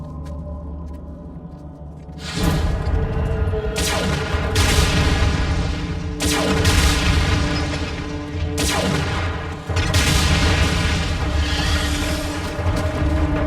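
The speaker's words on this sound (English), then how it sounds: "Suppression fire only." Heavy gunfire and booming blasts in an animated Transformers battle downtown, loud and sustained, with several bursts swelling in waves over a constant roar of combat.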